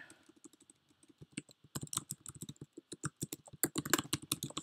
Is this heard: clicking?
yes